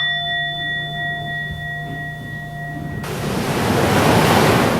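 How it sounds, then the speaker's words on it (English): Large ocean surf about 18 feet on the face breaking in a loud, broad rush of white water that swells and fills the air, coming after a calmer stretch with faint steady tones and wind. "when the big waves are breaking"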